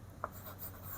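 A brief scratch of writing on a board in a grade 7 math lesson, one quick stroke followed by faint scraping in a quiet room.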